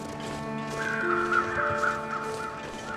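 Crows cawing repeatedly in the snowy wilderness of the survival game The Long Dark, harsh calls rising over a steady ambient game drone with no one talking.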